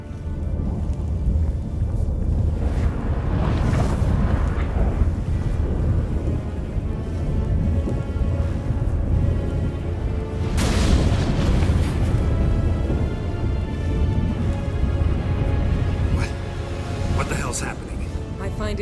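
Storm in The Witcher 3 rolls in with constant heavy rumbling, rain-like hiss and booming thunder cracks swelling and fading throughout, loud and close, with voices talking over it.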